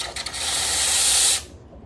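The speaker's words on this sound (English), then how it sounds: "let's push the steam" An espresso machine steam wand steaming milk gives a strong, steady close hiss that builds briefly and then cuts off abruptly near the end.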